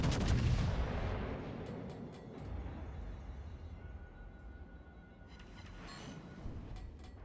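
Secondary guns on a warship in World of Warships: Legends open with a heavy booming blast, then rumble on with a rolling barrage of distant thuds and later bursts of crackling fire.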